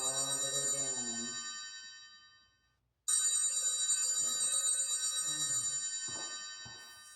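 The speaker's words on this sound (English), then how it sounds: "I don't know why my phone's ringing for this." A mobile phone's electronic ringtone plays during an exercise class, a bright repeating melodic ring that fades out, pauses briefly, then starts again loudly and keeps ringing.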